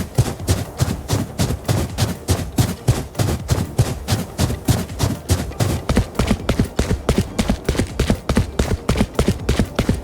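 Rapid footsteps in the video game Valorant, a steady run of crisp close steps that continues for about ten seconds, loud and alone with no talk over them.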